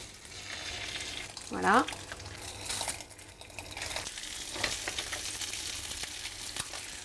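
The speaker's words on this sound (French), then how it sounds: "on les fait revenir dans de l'huile d'olive" Sea bream fillets fry in olive oil in a pan, a steady broadband sizzle that runs throughout, with occasional utensil clicks and one short spoken word.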